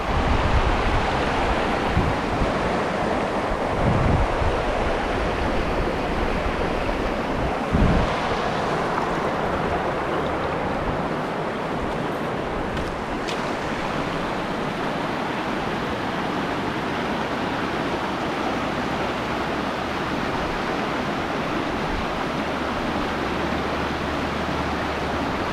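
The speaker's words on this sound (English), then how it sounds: "Beautiful day on the river." Broad, steady rush of flowing water on the Westfield River, continuous and fairly loud throughout, with a few brief low knocks early on and no talking.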